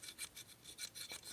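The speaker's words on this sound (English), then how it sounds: "after I kind of scrape the sides of that tube with this bit" A metal bit scraping the inside walls of a petrol lighter's tube, giving a rhythmic series of short, raspy strokes, close up and fairly quiet, with no talking.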